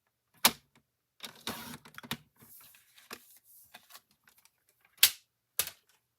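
Orange cardstock is trimmed to size on a paper cutter for card making, giving sharp clicks and snaps with short scraping slides of the blade between them, close and fairly loud.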